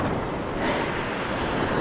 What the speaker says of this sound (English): I hate it when the waves do that.